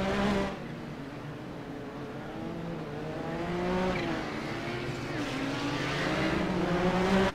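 Turbocharged race cars from the Kamel GT Championship roaring around Zolder in a racing game, engine drone rising and falling with throttle and shifts, several cars audible, continuous and fairly loud.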